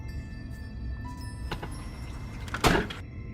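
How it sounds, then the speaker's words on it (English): A door at the back of a garage opens with a few soft clicks and rattles, then a louder scraping slide near the end, close by and with no talk. "next we're going to go out that door in the back"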